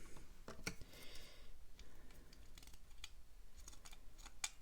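Scissors snip through a short length of green ribbon for a scrapbooking mini album, sharp close cuts recurring through a quiet crafting room with faint ticking clicks between them.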